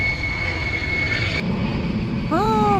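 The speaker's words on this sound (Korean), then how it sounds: "비행기 소리 때문에 잠시" An airplane passes overhead at a flower nursery, a loud broad engine roar with a high whine that holds steady and then shifts; birds chirp faintly at the end.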